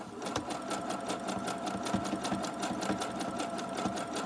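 A sewing machine stitches straight through a fabric snippet roll trimmed with lace, its needle clattering in a fast, even rhythm at close range.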